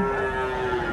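Cattle at a livestock market in Indonesia give a sustained, loud, low moo that holds steady for about a second, close by, with no talk over it.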